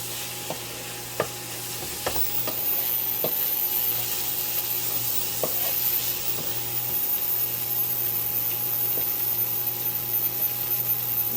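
Sausage and peppers sizzle steadily in a pan, with scattered clicks and scrapes of stirring near the start over a constant frying hiss; no one speaks.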